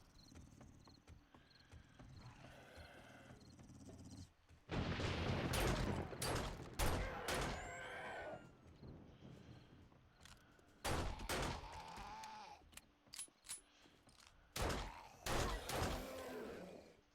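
Gunfire in the video game 7 Days to Die during a horde night, several loud bursts of shots in quick clusters over low game ambience, with brief gaps between volleys.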